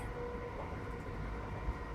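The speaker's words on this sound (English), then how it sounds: "The train will take care of the traveling." Passenger train running through snowy Scandinavian forests in winter, a steady low rumble and rolling hum throughout with no distinct clatter, carrying on evenly at moderate level.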